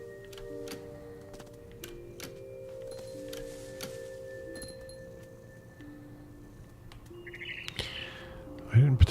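In the video game What Remains of Edith Finch, a bird chirps briefly near the end. Soft ticking clicks and faint tones from the game play underneath it.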